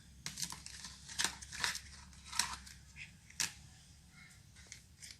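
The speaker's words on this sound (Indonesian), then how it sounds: "sebelum kita lanjutkan ya untuk membuka plastik ini, plastik klepnya ya" A plastic zip-lock bag being opened, with several crisp crinkling snaps and rustles in short irregular bursts, close and fairly quiet against a low steady hum.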